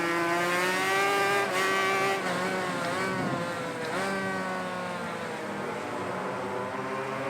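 A historic 500cc two-stroke racing motorcycle in MotoGP 20, its engine screaming loud and close at high revs, dipping and rising through gear changes in one continuous wail with no talk.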